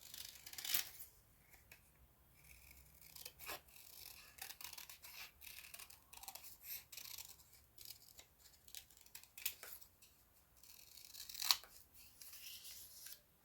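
Scissors snip and rasp through paper while a notebook is reworked, in irregular close bursts of cutting with rubbing and rustling between them and no talk.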